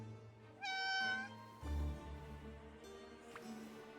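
A cat in the video game Infinity Nikki meows in a soft, drawn-out call near the start, followed by quieter shorter mews over faint background ambience.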